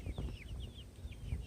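Young chicks kept in a cheap homemade chicken tractor with chicken wire, a string of short high peeps repeating rapidly over a low rustling, close and fairly quiet.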